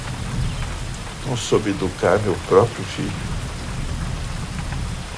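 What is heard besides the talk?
rain and thunder in a film scene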